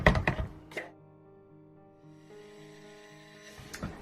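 Soap batter of oils with kaolin clay and sodium lactate being blended, with a steady motor-like hum between knocks and clatter at the start and end of a short run.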